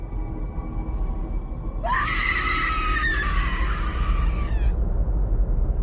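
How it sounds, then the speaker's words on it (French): A creature lets out a shrill, anguished, almost inhuman scream that rises sharply and holds for about three seconds before cutting off, set over a low rumbling ambient drone. "Et vous l'entendez crier. Mais des cris presque inhumains, tellement la douleur est importante."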